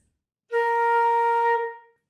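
A single flute B flat note is held steadily for about a second, clear and close, then tapers off into silence.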